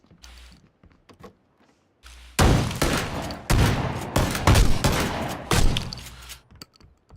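Rapid pistol shots ring out in a PUBG match, a burst of loud, close gunfire cracks in quick succession after a quieter start, with a few scattered clicks and mechanical sounds around them.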